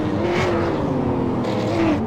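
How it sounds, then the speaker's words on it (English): V8 Supercars race cars in a sim racing game cross the finish line at Brands Hatch, a steady loud engine drone with pitch shifts as the cars pass, no voices. "Just the last couple of cars crossing lines"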